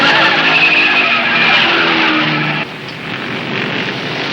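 A stock car spinning out in a race, tires skidding and squealing loudly against the roar of engines, the screech fading slightly as the car recovers and keeps running.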